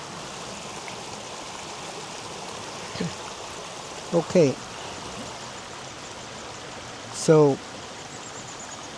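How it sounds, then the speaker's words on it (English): A river flows with a steady rushing wash of water that stays constant throughout, and someone speaks briefly over it a few times. "it's a nice river."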